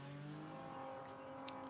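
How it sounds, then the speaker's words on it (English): A BMW CSL touring race car on the Spa circuit holds a steady engine drone with a sustained tonal whine, heard from a distance, with a faint tire squeal near the end. "So the BMW CSL making its way up towards the timing line."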